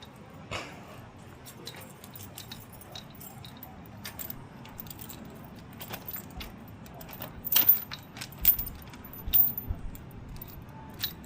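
A key on a ring jingles and clinks in short, scattered bursts against a quiet background hum, growing louder and busier toward the end.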